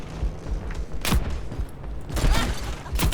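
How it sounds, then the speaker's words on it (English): Grenades from Junkrat's grenade launcher in the video game Overwatch burst in a rapid series of loud explosions, several booms landing one after another over continuous game noise. "So Junkrat's ability is a grenade launcher, not the ones that fire horizontally, but so these explode after 2 bounces."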